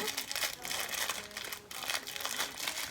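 Plastic gift packaging crinkles and crackles continuously as a parcel of purchases from Japan is torn open, a dense close rustle that stays steady throughout with a brief dip partway.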